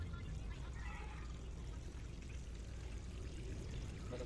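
Water pours steadily onto a potted rose plant, a continuous close splash and trickle into soil that holds an even level throughout with no pauses.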